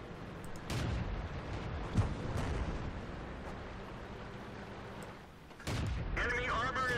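Tank cannon fire in World of Tanks during medium tank gameplay: a sharp, loud boom early on and another heavy blast near the end, over a dense rumbling battle backdrop, with game voice callouts heard.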